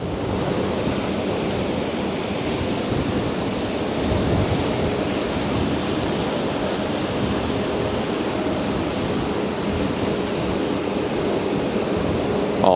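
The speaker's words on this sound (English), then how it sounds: "Oh, she's causing a lot of waves on the water." Broad, steady wash of water churned up by a passing ship on the Westerschelde river in the Netherlands, a continuous surf-like roar with wind noise on the microphone, no voices.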